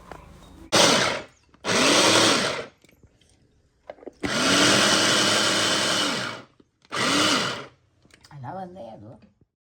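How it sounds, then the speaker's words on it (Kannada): A kitchen mixer grinder chops fruit in its jar in four pulsed bursts of whirring motor noise: two short runs, one longer steady spin, then a brief final burst, separated by near-silent pauses. "ಇದನ್ನು ಒಂದು ಮಿಕ್ಸಿ ಜಾರಿಗಾದರೂ ಹಾಕ್ಕೋಬೋದು"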